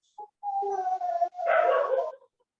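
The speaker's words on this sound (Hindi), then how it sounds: "लोगों से ज्यादा यहाँ कुत्ते बोल रहे हैं." Dogs heard through a call, a short yip followed by a drawn-out whining bark and a rougher, louder bark, close and alone with no talk.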